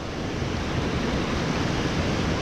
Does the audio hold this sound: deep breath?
no